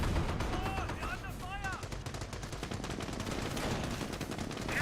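Dense artillery barrage and machine-gun fire in a Company of Heroes World War II battle, rapid overlapping blasts and rattling bursts filling the whole stretch, with a faint whistle of incoming shells.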